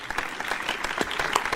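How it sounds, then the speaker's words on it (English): Brief, dense clapping from a small crowd, steady and fairly close, with no voices. "big round of applause to the legendary mod of the ages, Blogsy"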